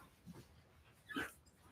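A dog whimpers faintly indoors, giving a brief soft whine and then a slightly louder high whimper about a second later.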